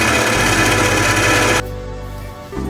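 An electric stand mixer whirs at high speed through Valentine's cookie dough, a loud steady motor drone that drops to a lower, quieter hum partway through before rising slightly again.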